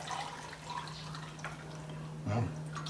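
Water poured into a jar of Sicilian village-style olives, a faint trickling and splashing fill under quiet room noise, with a louder gurgle near the end.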